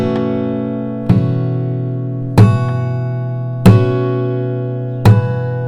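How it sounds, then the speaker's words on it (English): Slap harmonics struck on an acoustic guitar fretboard at the 9th fret with a capo on the 2nd fret, four evenly spaced percussive slaps each bringing out a bright ringing chime over a sustained droning chord. "It's called slap harmonics, and basically you have to hit the fretboard with your right hand."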